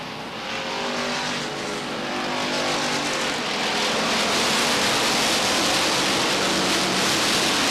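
Race cars roar steadily around the Beech Ridge Motor Speedway oval, a loud continuous engine drone that swells and builds over several seconds with no voices.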